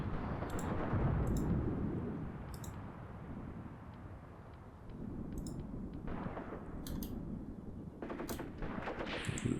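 Distant machine gun fire and battle noise in the Graviteam Tactics war game, a dense low rumbling roar with scattered sharp bursts and clicks, continuous and moderately faint, no voices.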